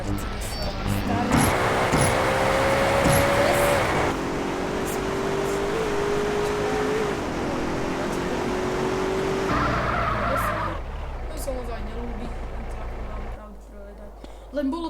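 An old Mercedes in GTA San Andreas drives with a steady engine drone, and its tires squeal in long skids before the motor cuts off abruptly. Sustained and close, with a voice speaking over the car.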